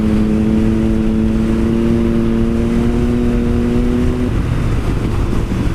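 Motorbike engine revving steadily during a ride, a loud sustained tone that rises slightly in pitch before dropping off near the end, with wind rumble throughout and no talking.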